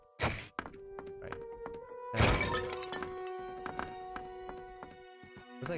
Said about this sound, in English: Just smashing these objects